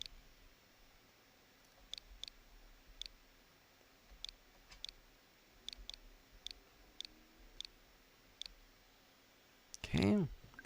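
Scattered keystrokes on a computer keyboard as a friend code is entered for a Switch game, sparse clicks spread across several seconds, fairly close and quiet, followed by a brief burst of voice at the end.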